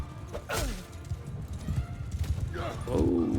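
Horses in the medieval battle game Mount & Blade II Bannerlord clop and thud close by, with a whinny rising near the end amid clashing combat noise.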